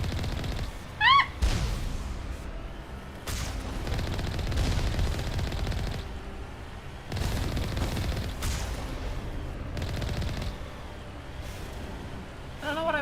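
Rapid bursts of automatic gunfire crackle in several separate volleys during a firefight in the sci-fi game Mass Effect, with a short shout near the start and brief quieter gaps between the loud rattling stretches.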